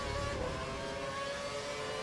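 F1 cars in F1 2012 at the Catalunya circuit in Spain drone away as a steady, high-pitched engine whine, fairly quiet and continuous with a slight fade as they pull off.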